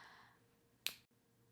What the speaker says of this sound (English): you snap us out and back in